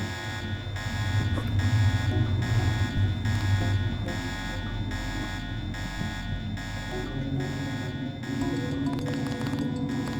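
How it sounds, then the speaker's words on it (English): Alarms blare in The Nameless Mod video game, a loud, pulsing electronic buzz that repeats steadily, about once a second, under faint background game noise. "And there are the alarms."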